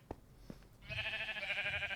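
A sheep on a video-game sheep farm bleats once in a sustained, wavering cry after a couple of soft clicks, close and fairly clear.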